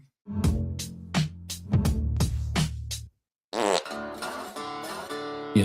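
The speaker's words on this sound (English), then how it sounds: "it farts every time you hit forward" Several loud comic fart sound effects from a website, each fired on clicking forward, come in quick succession, followed by a burst of grunge alternative music.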